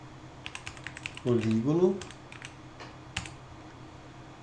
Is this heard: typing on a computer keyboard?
yes